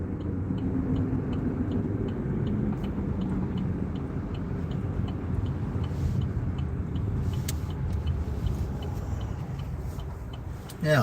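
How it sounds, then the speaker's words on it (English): Steady road traffic rumbles past at close range, a continuous broadband roar of cars and larger vehicles with no pauses, and no voices. "waiting for all this traffic"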